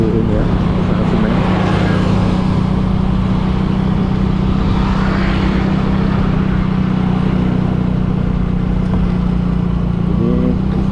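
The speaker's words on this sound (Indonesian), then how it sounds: "banyak sekali kendaraan keluar masuk ya, kendaraan bawa semen teman-teman" Cement-carrying trucks and other vehicles pass steadily on a road near a cement works area, a continuous loud rumble of engines and tyres with no clear breaks.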